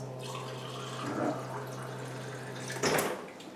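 Water running out of a kitchen appliance's spout in a steady stream, with a brief louder gush near the end over a constant low hum.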